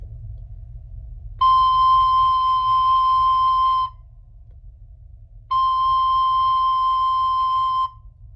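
A recorder sounds the note C twice, each a steady, pure tone held for about two seconds with a pause between. Both notes are close and clear over a low background hum.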